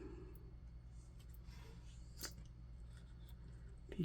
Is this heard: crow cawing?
no